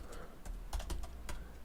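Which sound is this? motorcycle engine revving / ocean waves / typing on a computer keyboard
typing on a computer keyboard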